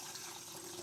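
Half a litre of water pours steadily for a nettle hair rinse, a quiet, continuous gushing stream that runs on without a break and with no voices.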